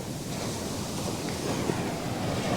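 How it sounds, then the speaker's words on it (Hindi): Sea waves breaking on Alappuzha beach in Kerala, a steady broadband wash of surf rolling continuously with wind buffeting the microphone, no voices present. "बार बार उठ उठ के लहरों के पास आ रहा हूँ इनका मज़ा लेने के लिए"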